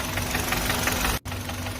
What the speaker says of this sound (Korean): 이거는 엔진이 이제 실린더가 많이 돼서 좀 칙칙칙칙 착착착착 하는 그런 소리가 나는 겁니다